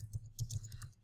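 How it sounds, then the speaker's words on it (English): Fingers tap a computer keyboard in a short burst of light, closely spaced clicks, soft and near, with no talking over them. "I'm typing it"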